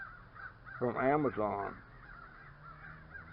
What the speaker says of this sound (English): But I hear them crows out there.